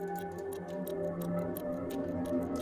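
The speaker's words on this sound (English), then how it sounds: "A little clock thing as well." A small clock-like tick sample in the intro of a hard neurofunk drum and bass track, made in FL Studio with the Arcade plugin. Crisp, even ticks repeat steadily over sustained atmospheric synth pads.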